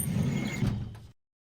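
In the video game Tex Murphy: The Pandora Directive, a drawer scrapes open with a sliding rumble of about a second that stops abruptly into silence, with no voices.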